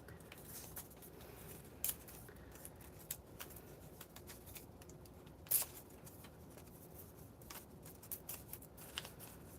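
Paper is torn off in pieces during a small craft project, quiet scattered rips and rustles with a few sharper tearing bursts, faint and close with no talking.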